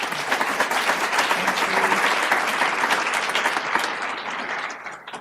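An audience applauds to welcome a keynote speaker onto the stage at an evening talk on keeping love alive, the clapping dense and sustained for about five seconds before tapering at the end.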